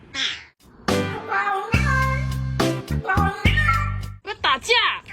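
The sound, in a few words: cat meowing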